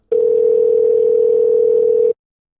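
A steady telephone dial tone holds one pitch for about two seconds, loud and unbroken, then cuts off cleanly, left behind when a call fails to connect.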